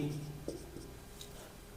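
Marker or chalk writing on a classroom board during a maths lesson, a few short scratchy strokes close by, with a faint steady hum behind and no talk over it.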